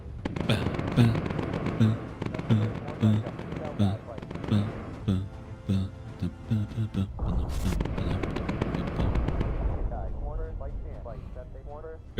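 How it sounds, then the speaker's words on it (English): Aircraft machine guns firing in the bomber video game Bomber Crew, loud rapid rattling bursts repeating in a steady rhythm, then a denser roar of gunfire and explosions, with game sounds layered underneath. "Good shooting, Moogle."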